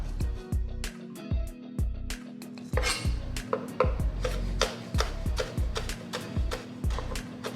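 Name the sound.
knife chopping jalapeno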